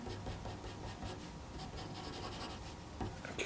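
Pencil or pen scratching across paper while sketching quick, bold lines for a middle-aged man's moustache and beard, a steady close rasping stroke sound with brief pauses between strokes.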